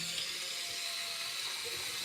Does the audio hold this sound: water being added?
yes